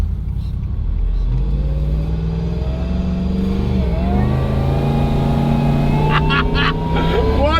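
A supercharged Nissan Y62 Patrol 6x6 drives with a loud, steady engine drone from inside the cabin, pitch rising and falling as it accelerates and shifts, while a voice speaks briefly near the end.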